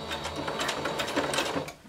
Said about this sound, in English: I'm going to do a little back stitch here to make sure everything stays in place.